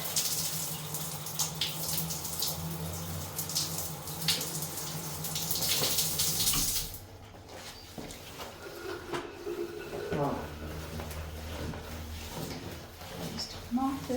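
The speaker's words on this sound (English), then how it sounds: "I'm just going to turn the shower on just so I can get my" A shower runs steadily in a bathroom, water hissing and splashing at a constant level, close by, then shifts to a lower gush as the flow changes partway through, wetting a mop.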